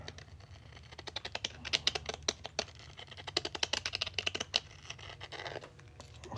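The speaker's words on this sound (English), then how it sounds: "We're just going to scrape away the edge a little at a time." A deburring tool scrapes bit by bit at the edge of a fine silver coin ring, giving a rapid, uneven run of sharp, close scratchy clicks and rasps with no talking.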